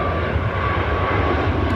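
An airliner passes low while plane spotting at Heathrow in Microsoft Flight Simulator 2024, a loud, steady broadband engine roar that fills the whole stretch without changing.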